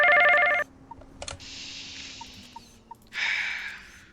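Phone ringing in the game PizzaBear's Funworld, a loud electronic ring at the start, soft blips and a brief click, a long buzzing tone, then another ring burst, in a quiet room.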